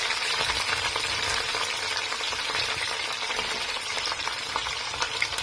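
Vegetables sizzle and fry in a pan at home, a dense, steady hiss with small crackles and occasional stirring, close and constant throughout with no talking.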